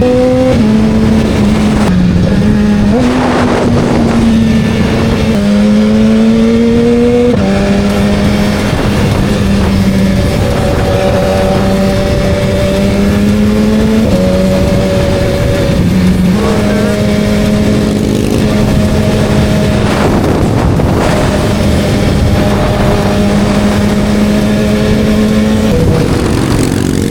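Several sport motorcycles pass along a road one after another, engines rising and falling in pitch as they approach and fade, loud and close, with occasional muffled voices underneath.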